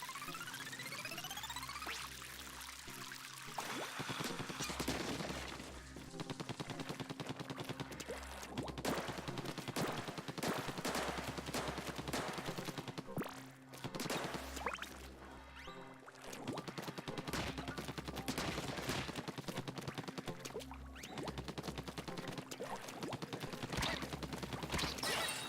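Weapon firing in Splatoon 2 after a fire rate upgrade, a long stretch of rapid, continuous shots over a steady pulsing game soundtrack, loud and busy throughout.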